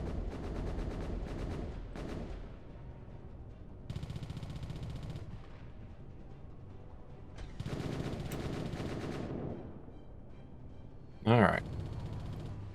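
Bursts of rapid gunfire from a fighter attack in the Space Engineers video game, several loud volleys separated by quieter gaps, with talking over parts of it.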